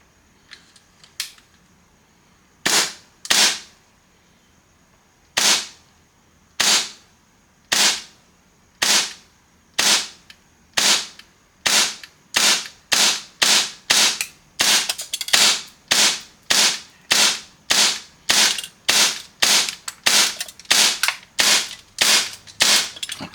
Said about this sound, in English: We're going to shoot through the chrono for the first part.